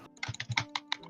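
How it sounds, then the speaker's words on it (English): Computer keyboard keys are hit and clicked in a rapid burst of sharp, close taps during a game, with no talking. "Stop hitting your keyboard. Like, it doesn't help."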